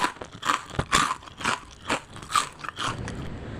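Close, crisp crunches from biting into a crunchy fried tapioca flour snack, several sharp bites in an uneven rhythm with no talking.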